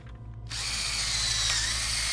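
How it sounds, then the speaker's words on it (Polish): A cordless screwdriver drills into a RoboCop helmet in RoboCop: Rogue City, starting abruptly after a brief quiet and then whirring loudly and continuously at close range. "Wkrętarką normalnie mi w kasku wierci."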